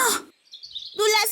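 Birds singing at dusk, a thin chirping trill in the quiet gap between two voiced sounds that could be a person humming or singing along.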